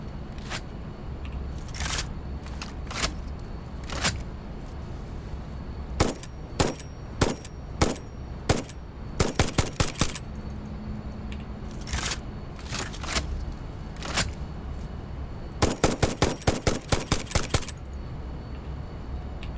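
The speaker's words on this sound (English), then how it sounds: "Man, that rifle ammo goes fast, though, doesn't it?" A rifle fires in the Satisfactory video game: sharp, loud single shots at irregular intervals, then quick clusters of rapid shots, over a steady low mechanical hum.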